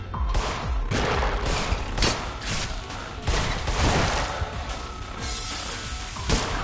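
Gunfire in the video game In Sound Mind as lit and unlit targets are shot, a loud, dense run of overlapping shots and impacts with brief gaps, close and continuous.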